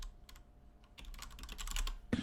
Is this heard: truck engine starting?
no